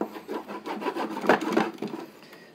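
A wax candle rubbed back and forth against the wooden underside of an antique cantilevered sewing box, giving a close, steady dry scraping in repeated strokes with no voices.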